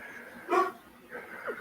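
A dog lets out a short, quiet whimper, one brief whine in a soft room, followed by a fainter second murmur.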